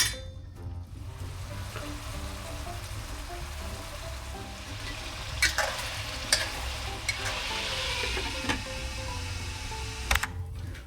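Chicken skin fries in hot fat as its oil renders out, giving a steady close sizzle throughout while a utensil stirs and scrapes the pan with occasional sharp clicks.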